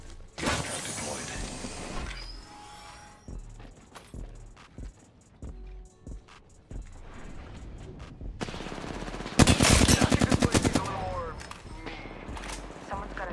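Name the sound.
gunfire in the video game Apex Legends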